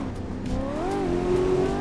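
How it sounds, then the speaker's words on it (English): A Cadillac CT5-V driven in the Assetto Corsa racing game, its engine note rising and falling steadily through the gears, loud and close for the whole stretch with no talk over it. "We're driving a Cadillac CT5V."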